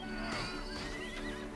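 A horse in a strategy video game whinnies in a long, wavering neigh over a dense, continuous bed of battle sounds and hooves.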